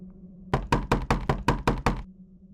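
Someone knocks on a hotel room door with a firm, rapid run of about eight close, loud knocks, alone against a faint room hum.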